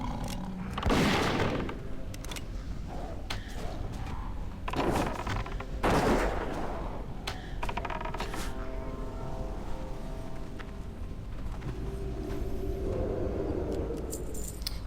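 An Aimed Shot attack in World of Warcraft Vanilla fires as a few sharp bursts over game ambience, each crack loud and brief, spaced a couple of seconds apart with a lighter rattle between them.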